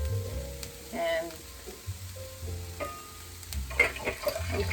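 Egg rolls fry in hot oil with a steady crackling sizzle that swells and eases, close and continuous, with a brief spoken word over it.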